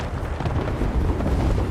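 A grenade blast in the battle-royale shooter Apex Legends during a pro league match, heard as a loud, broad rumbling boom that swells and sustains over a dense low roar, with no voices on top.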